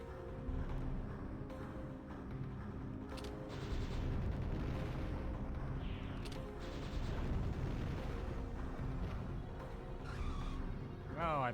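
Main gun fire in the Panzer Dragoon Saga video game: dense, rumbling blasts sit over a continuous game music bed, with a voice talking over part of it.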